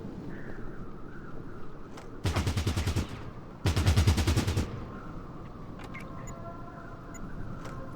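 Two long bursts of rapid automatic gunfire ring out in Fallout Tactics: Brotherhood of Steel, each about a second long, loud and dense against a low ambient rumble, with a pause between them.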